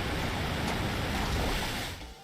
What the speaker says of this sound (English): It's using Muddy Water.